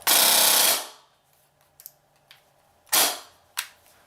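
A Krytac Vector airsoft gun fires a short full-auto burst, a loud rapid mechanical buzz lasting under a second, followed by quiet clicks and two more brief sharp bursts.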